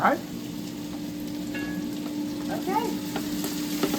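Green beans, potatoes and radishes sizzle and crackle as they stir-fry in a hot pan, a steady close frying hiss with scraping stirs, while a person speaks briefly over it.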